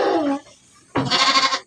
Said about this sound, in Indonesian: Penampakan domba-domba super iya domba super di Mutiara Ternak